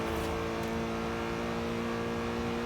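A racing car engine holds at full throttle in a racing video game, a loud, steady droning whine that runs unbroken for a few seconds.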